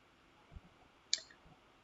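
A single soft mouse click on a send button, faint and brief in a quiet room with a few low muffled bumps around it.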